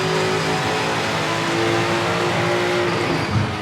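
A Lancia Stratos rally car in V-Rally 4 drops a gear, its engine a loud, continuous, close-up whine with shifting tones throughout.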